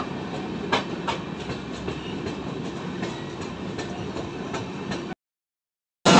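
The Santragachi–Pune Humsafar Express rolls into Gondia Junction with a steady loud rumble and rhythmic clickety-clack of wheels over rail joints, then cuts off abruptly before a brief return.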